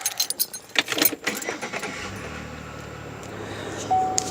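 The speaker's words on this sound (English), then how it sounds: "I'm currently getting into the car so I can get myself headed into school." Keys jangle in a bright, close metallic rattle for about a second as someone climbs into a car, followed by faint rustling and a steady low car interior hum.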